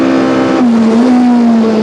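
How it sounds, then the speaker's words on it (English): A Sasol VW Golf rally car on a special stage at the 2001 Rally of South Africa, a loud close engine roar holding a high rev with a slight pitch drop, brief and with no talk. "Jan Havig and Douglas Judd power the Sasol VW Golf to another special stage win"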